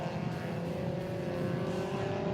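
Racing cars on a circuit, a steady sustained engine drone held at high revs, moderately distant and even in level, with no voices over it.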